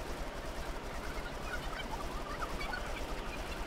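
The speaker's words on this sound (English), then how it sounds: "Okay, so we're being attacked by crows of some kind?" A flock of crows cawing in the video game Observer, a dense, continuous clamour of harsh overlapping calls that fills the whole stretch at steady loudness.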